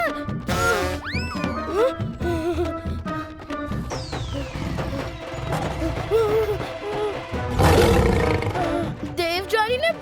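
Lions roar loudly in an animated scene, the roars mixed with whooshing effects, music and busy cartoon sound over about ten seconds.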